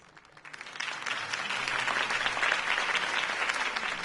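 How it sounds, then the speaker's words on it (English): Crowd applause in the Telltale Batman video game, a rally audience cheering for Harvey Dent, swelling from quiet into steady, dense clapping that holds loud to the end. "If only Mr. Wayne, my campaign's largest backer, could have heard that applause"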